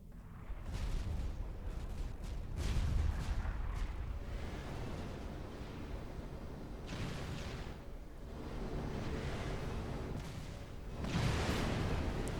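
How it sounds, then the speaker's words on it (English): Heavy artillery fire from the Fat Boy unit in the strategy game Supreme Commander 2: a barrage of booming explosions in several bursts, rumbling and dense, with no talking over them. "Fat boy shots are fairly devastating against smaller units just like that."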